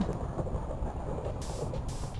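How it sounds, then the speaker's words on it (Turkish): Thunder from a lightning strike in Minecraft rumbles low under steady rain-like noise, with two brief bright bursts of hiss toward the end and no speech. "Şimşek çaktı."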